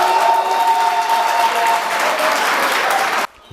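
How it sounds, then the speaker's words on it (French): An audience at a Congolese community presidential election debate in Dallas applauds loudly, a dense, even burst of clapping that carries on for about three seconds before cutting off abruptly. "Réponse qui a été vivement acclamée par l'audience"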